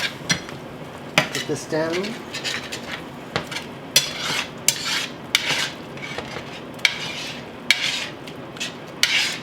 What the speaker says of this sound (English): take your spatula and whatever little crumbs you have on the bottom, scrape them up just a little bit